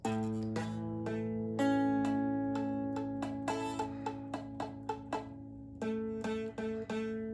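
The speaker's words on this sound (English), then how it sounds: "See the fret buzz? We don't want the fret buzz." Guitar strings are plucked one after another in a steady sequence, each note ringing with a slightly buzzing, rattly edge from fret buzz on a barre chord, quiet and close.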